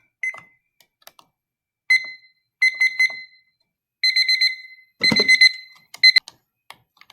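A breakout-room countdown timer alarm goes off during a remote class, sounding as bursts of repeated electronic beeps in several separate groups that grow louder and denser toward the end, with no talk over them.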